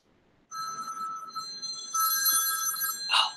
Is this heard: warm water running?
no